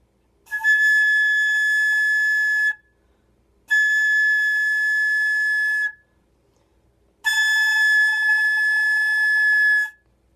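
Three sustained high A notes blown with very fast air in a woodwind lesson ring out clear and steady, each lasting about two seconds, separated by short silences, with no talking.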